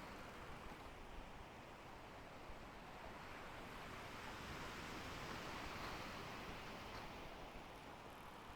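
Strong wind at sea in the sailing game Sailwind, a steady broadband rush of wind and surf that swells slightly midway, continuous and quiet with no voices.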